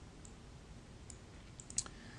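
Computer mouse clicked several times, faint sharp clicks scattered over a quiet background, including a quick double click near the end.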